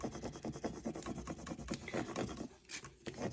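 A Cricut tool rubbed firmly over transfer paper on a memorial tumbler, making a steady scratchy rasping back-and-forth scrub, close and fairly loud, with rhythmic strokes continuing throughout and no voices.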